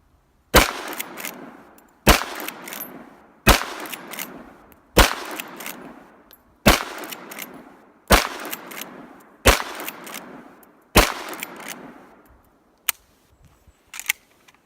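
A Winchester 94 30-30 lever-action rifle fires again and again at small steel silhouette targets. About nine sharp, loud shots come at a steady pace, each trailing a short echo, with no talking.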